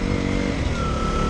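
A KTM Duke 125 motorcycle engine runs at a steady idle, a close, continuous mid-pitched drone with a faint whine and no obvious revving.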